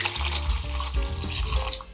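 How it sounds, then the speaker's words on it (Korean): Warm water gushes steadily from a tap into a sink while lemons are scrubbed, a loud close continuous splashing stream with no talk. "따끈한 물을 부으셔서 더 문질러 주세요."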